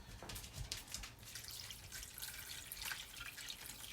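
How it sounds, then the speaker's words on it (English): Water poured into a skillet of pasta makes a faint, steady splashing and trickling, quiet and close, with no voices. "I got to put my water in here"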